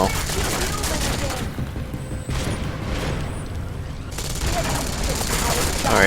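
Turret gunfire in Deus Ex: Mankind Divided, bursts of dense, loud rapid fire that drop away for a couple of seconds and then resume, with mechanical clatter between and a voice speaking over it.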